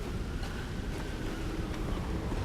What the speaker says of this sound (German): Irgendwo hat es Wind. Durch die Felsspalten hindurch hier.